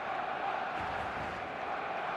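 A dense stadium crowd roars continuously at match day in the football game eFootball 2026, Barcelona vs Mallorca, a broad steady wash of cheering with no breaks.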